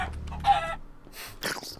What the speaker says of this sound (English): Chicken jockeys.